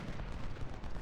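Rifle volley from infantry troops in Ultimate General: Civil War, a dense rolling crackle of massed shots blending into a continuous low rumble over about a second.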